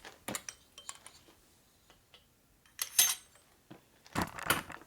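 Small metal engine parts clatter and jingle as they drop through an oil cover into a lifter, in a few sharp bursts of metallic rattling with quiet gaps between them.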